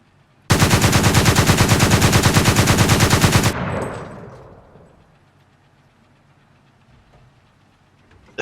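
Gepard anti-aircraft autocannons in War Thunder fire one loud, continuous rapid burst for about three seconds, a hammering drumroll of shots that stops abruptly and leaves a long fading echo with no speech.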